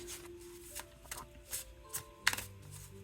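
Tarot cards handled and shuffled for a reading, a series of soft papery snaps and riffles at a close distance, with one sharper flurry near the end over a faint steady hum.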